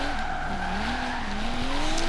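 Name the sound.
high speed car drifting with tire squeal in Forza Horizon 3 video game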